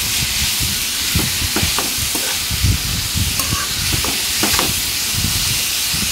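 Bottle gourd pieces being stirred with salt and turmeric in a pan, steady sizzling hiss with scraping stirs and soft clicks of the utensil, close and loud.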